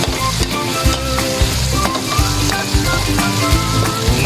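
Tomatoes frying in a pan for sarsiadong pampano, a loud, steady, crackling sizzle with small pops and spatters throughout, close up and with no talk.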